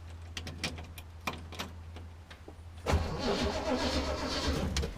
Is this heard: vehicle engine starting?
yes